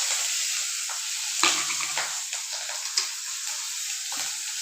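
Asafoetida and a dried red chili hit hot oil in a pan, giving a continuous bright sizzle with a sharper crackling burst and small pops, close and steady, with no talking.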